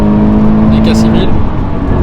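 A naturally aspirated car engine revs up while accelerating, a loud buzzing drone with a steady pitched tone, heard under someone speaking French.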